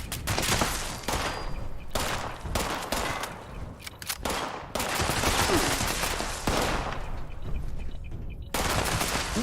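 Rapid automatic gunfire from the video game Fallout 76, repeated loud bursts of shots separated by brief pauses, dense and close, with no talk.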